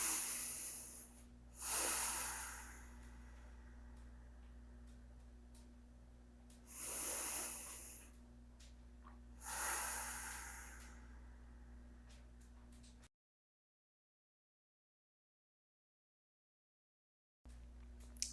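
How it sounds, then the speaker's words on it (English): Slow, deep breaths during a gentle yoga hip stretch, three soft broadband swells of inhale and exhale spaced a few seconds apart, close and quiet, followed by a stretch of silence. "2 deep breaths here."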